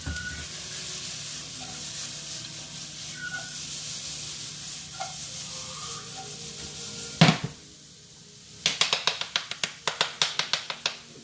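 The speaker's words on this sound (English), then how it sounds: "we're basically just cooking these onions down just until they're real kind of clear" Onions cooking down in a pan for homemade marinara, giving a steady close sizzle and hiss with occasional stirring scrapes, a brief pause, then a run of sharp rhythmic ticks and crackles.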